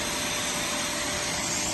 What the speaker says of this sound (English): let me turn on the vacuum